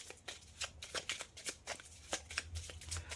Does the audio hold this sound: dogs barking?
no